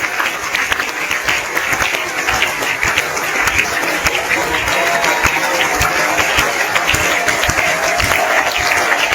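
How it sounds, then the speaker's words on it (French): Sustained, dense applause from a large audience giving a standing ovation to the film Banel et Adama at the Cannes festival, loud and continuous throughout without a break. "Banel et Adama fait déjà sensation à la messe du cinéma mondial avec à la clé un standing ovation."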